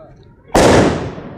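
Fireworks go off at a cremation ground during Diwali: one loud, sharp burst hits suddenly and then crackles and fades over the next second, following a quiet stretch.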